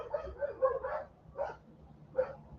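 A dog named Choco barks several times outdoors in Manglaralto, Ecuador, a cluster of quick yips followed by two more spaced barks at moderate distance.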